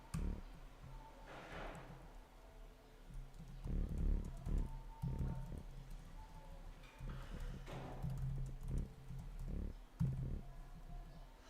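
A computer keyboard is typed on in uneven bursts of soft, close taps and thumps, with short pauses between clusters of keystrokes over nearly twelve seconds. No one speaks.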